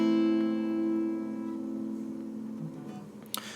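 A guitar chord strummed from the fifth string rings out clearly and alone, sustaining and slowly fading over a few seconds before a faint fret or string noise at the end.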